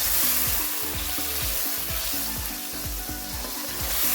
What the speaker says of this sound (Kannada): ಟೊಮೊಟೊ ಹಣ್ಣನ್ನು ಈ ರೀತಿ ಪ್ಯೂರಿ ಹಾಕಾದ್ಮೇಲೆ ಈ ರೀತಿ ಚೆನ್ನಾಗಿ ಬಾಡಿಸ್ಕೋಬೇಕು